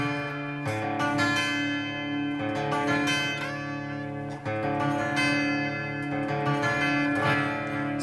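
Clean electric guitar from a mid-1990s Fender Squier Stratocaster, strummed chords ringing with sustained harmonic tones, steady rhythm with brief pauses, close and clear with no talking.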